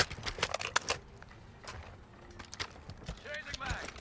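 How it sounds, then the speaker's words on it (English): Quick, close footsteps in the Call of Duty Modern Warfare II beta patter loudly under a player's talk, mixed with brief game clicks and impacts. "the footsteps are loud"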